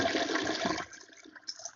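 A toilet flushes in a short, loud rush of water that cuts off abruptly, leaving faint trickling and refilling sounds.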